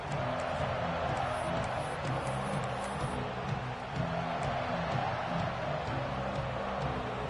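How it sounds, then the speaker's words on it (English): A football stadium crowd roars steadily through the opening of the second half of a Purdue Boilermakers game, a dense continuous wash of distant cheering with a muffled announcer voice underneath. "This crowd still bringing the intensity to open the second half"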